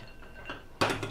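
Hard-boiled eggs lifted from a pot make faint clinks, then a louder clatter of utensil against pot near the end, close and brief.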